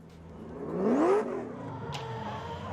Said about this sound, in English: Warming the tires up once again.